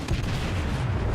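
Battleship Kongo's main guns fire in World of Warships, opening with a heavy boom that rolls into a dense, low rumbling roar that lingers for the rest of the moment.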